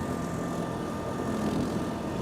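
An Iseki SRA950F wheeled brush cutter mows in economy mode with its cutters engaged, the engine a steady, even, low-working drone with no talk over it.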